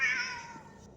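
Lux, a cat in the video game Lightmatter, gives a single clear meow that is bright and drawn out, then fades away.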